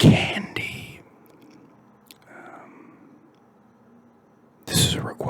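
Hard candy being chewed close to the mic, with a burst of crunchy bites at the start, a quiet stretch of faint mouth sounds, then another loud crunching burst near the end.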